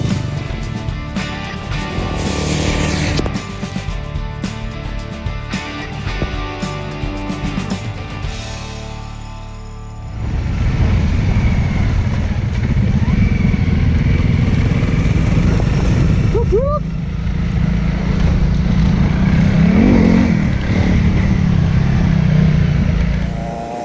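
A Honda CRF300L dual-sport motorcycle fitted with a Nitron R1 rear shock rides on a track, its single-cylinder engine droning and revving loudly and close, with wind rush and a steady rough exhaust note throughout.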